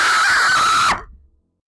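A voice lets out a loud, sustained scream acted out as agonizing pain, holding a steady strained pitch for about a second before cutting off abruptly into silence.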